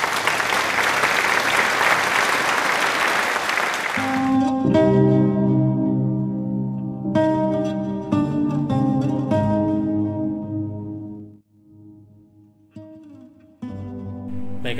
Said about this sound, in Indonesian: Beri tepuk tangan untuk Azahra.